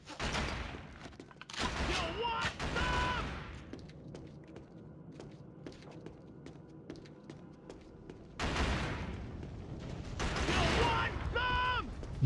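Gunfire in a first-person shooter video game: loud bursts of shots and thuds that come and go, with a quieter stretch between bursts and people talking over parts of it.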